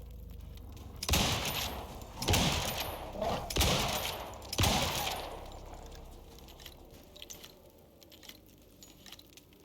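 Gunshots in the survival game Icarus: four loud, sharp shots spaced about a second apart, each with a lingering tail, then quieter ambient noise with faint clicks.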